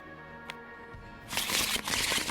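Playing cards are shuffled in the Tabletop Simulator board game This War of Mine: quiet at first, then a dense, rapid riffling flutter for about a second.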